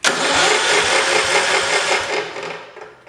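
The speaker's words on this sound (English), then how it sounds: "we're going to find out here and now if this tractor is going to run today" A 1968 Kohler 112 tractor engine cranking over and catching, with loud rhythmic mechanical pulses that build into a sputtering run before easing off near the end.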